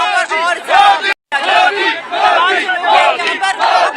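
A crowd of BJP workers at a political protest shouts slogans in loud, dense unison, a near, continuous roar of massed voices broken by one brief pause.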